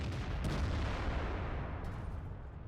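Artillery fire in World of Tanks lands as a heavy, rumbling blast. A booming burst at the start rolls into a long, low decay that fades over the next couple of seconds, with no voices present.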